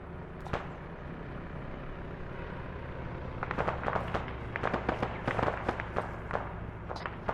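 Rocket blasts in a military video game: a single sharp bang, then a rapid burst of cracking explosions and pops, distant to mid-range over a steady low rumble, with no talk.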